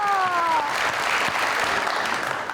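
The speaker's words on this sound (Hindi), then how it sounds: "तालियां" A studio audience at a talk show breaks into sustained clapping, a dense even wash of applause that holds steady for a couple of seconds after a brief tone fades.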